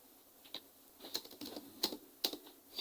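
Typing on a computer keyboard while coding a web page, with light, irregular keystrokes close by, some sharper clicks among them and quiet pauses between.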